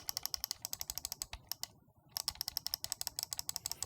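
Rapid jitter clicks on the main buttons of a Divina FK-B computer mouse come as a dense train of sharp plastic clicks, close and crisp, broken by a brief pause before resuming at a similar fast rhythm.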